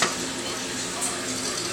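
Eggs frying in butter in a pot, a steady, close sizzle with faint stirring and scraping, holding at an even level throughout.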